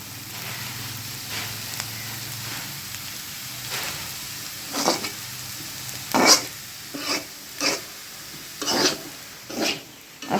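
Potatoes for aloo bhaji crackle and sizzle in a pan, with soft frying hiss punctuated by repeated sharp stirring scrapes growing louder and more frequent toward the end.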